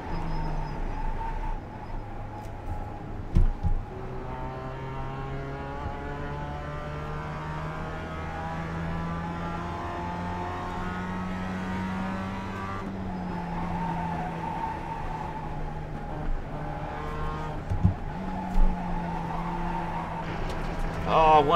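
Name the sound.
race car driving a qualifying lap in iRacing video game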